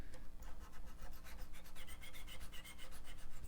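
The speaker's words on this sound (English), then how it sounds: "the crunchiness of the string on these frets" A string on a cheap guitar grinds and crunches against worn frets, a quiet, rhythmic run of scratchy rubbing strokes, close up with no talking.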